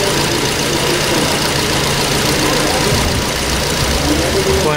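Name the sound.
car engine running cold, accelerating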